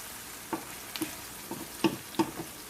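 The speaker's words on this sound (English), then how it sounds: "you're gonna let your onions and peppers cook for about a good 4 minutes by themselves" Onions and peppers fry in a pan, a soft steady sizzle punctuated by several light clicks and taps of stirring, close and fairly quiet with no talking.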